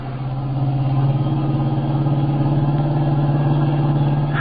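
A car engine in a radio-drama chase climbs steadily in pitch and loudness, holding a strong, sustained mid-range drone throughout with no talking over it.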